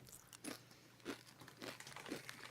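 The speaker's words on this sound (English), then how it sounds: "Let me know when you guys are gonna stop chewing." Crunchy bites of Flamin' Hot Munchies chips, four distinct crunches spaced roughly half a second apart, close to the mic and fairly quiet over a low steady hum.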